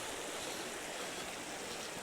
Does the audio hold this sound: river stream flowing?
yes